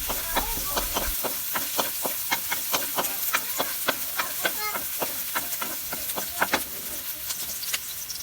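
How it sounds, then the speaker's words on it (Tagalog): Onion and garlic sautéing in oil in a hot pan, a steady close sizzle broken by rhythmic scraping and stirring strokes, with no voices. "igisa lang natin itong ating sibuyas at bawang"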